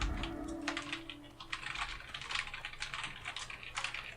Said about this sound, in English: I'm typing in world while talking to you guys while trying to run